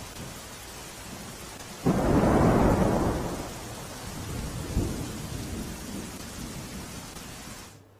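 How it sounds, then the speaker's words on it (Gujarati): A loud thunderclap breaks over steady heavy rain in a rural village area of Khedbrahma taluka, Sabarkantha, then rolls away, with a second smaller rumble later while the downpour hisses on throughout. "ખેડબ્રહ્મા તાલુકામાં ગ્રામ્ય વિસ્તારોમાં ધોધમાર વરસાદ વરસ્યો"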